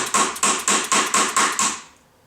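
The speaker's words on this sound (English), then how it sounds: "we're going to take that same screwdriver that I had with the hammer and we're going to bend down the tabs for this nut" Seven evenly spaced metallic taps from a hammer striking a screwdriver to bend down the tabs of a nut during clutch repair on a Honda CRF 450, close and sharp, then silence.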